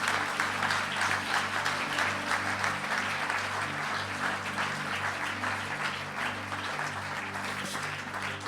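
A church congregation at an Easter service breaks into sustained applause and cheering, a dense wash of clapping that holds steady throughout, with a faint organ-like hum beneath.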